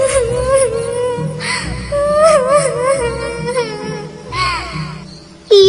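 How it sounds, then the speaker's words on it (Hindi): A cartoon bird cries in a high, wavering whimper, sobbing in several rising and falling bursts, loud and close, with a sharp final wail at the end. "उनके कानों में फिर किसी चिड़िया के रोने"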